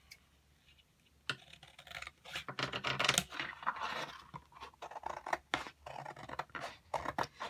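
Scissors slicing through card for a handmade card box, a run of crisp snipping and crunching cuts in quick uneven rhythm, close and alone after a brief quiet start.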